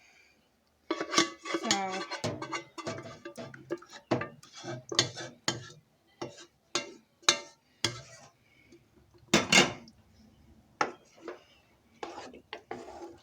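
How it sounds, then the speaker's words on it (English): Homemade sauce is mixed into drained noodles in a pot, giving repeated scraping and clinking of a utensil against the metal in an uneven rhythm, close and fairly clear, with a brief word spoken. "Now I'm going to put my sauce, homemade sauce in, and mix it around"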